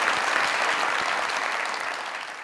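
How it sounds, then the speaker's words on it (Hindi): A studio audience claps at a talk show, a dense burst of many hands that is loud at the start and tapers slightly over about two and a half seconds, with no talking. "तालियां बजाएं"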